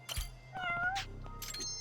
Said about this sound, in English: Meow again, cat.